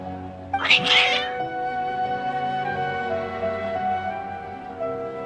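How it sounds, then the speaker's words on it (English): Agitated cats in Genshin Impact meow and caterwaul, with one sharp loud yowl near the start. Sustained game music plays underneath. "Your cats seem pretty worked up."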